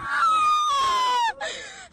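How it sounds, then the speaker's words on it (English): A young girl screams out for her mother in a long, high, wavering cry that falls slightly in pitch, breaks off, then resumes briefly, loud and close. "this video of one of her students screaming out to her mother"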